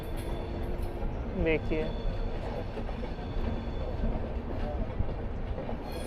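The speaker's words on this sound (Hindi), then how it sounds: "ये आगे निकलेगी हमारी ट्रेन, बीच में आ जाएगी एक माल ट्रेन" A freight train rolls past a halted passenger train, the Satyagraha Express, as a steady rumble of wagons and faint wheel clatter fill the clip, with a brief voice speaking over it.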